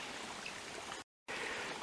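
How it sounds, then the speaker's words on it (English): A small stream flowing beside Keyser Run Road in Shenandoah National Park, a steady close wash of running water that cuts out briefly and returns, with no voices. "So there's a little stream right here."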